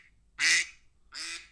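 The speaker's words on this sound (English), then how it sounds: "The duck goes off. That's a very loud noise whenever I do laundry or I do whatever. That's my timer that goes off." A duck-quack kitchen timer goes off with two loud, clear quacks about a second apart, alone against quiet background.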